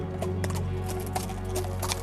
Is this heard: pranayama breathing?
no